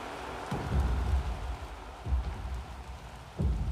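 Steady rain falls in Little Nightmares 2, a dense broadband wash with low rumbling swells that rise and fall every second or two, no voices.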